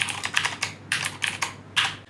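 Fingers type on a computer keyboard while writing Python code in an IDE, producing quick clusters of close, crisp key clicks with brief pauses between bursts, and no voices.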